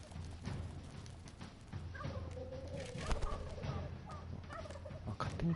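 Clucking chickens fill a dungeon scene in the video game Dungeons 3, many birds calling in overlapping bursts alongside intermittent clip-clop taps that swell louder toward the end.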